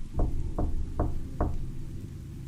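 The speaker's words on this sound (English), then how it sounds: "It was a knock." Four evenly spaced, hollow knocks on a front door, close and fairly firm, followed by a quiet pause with low room noise.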